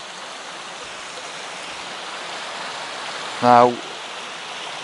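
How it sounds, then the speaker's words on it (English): A river flowing through a diverted channel at Roche Abbey, a steady broadband rush of water heard close and even throughout, with a single short spoken word near the end. "the river's actually being diverted through here by Capability Brown"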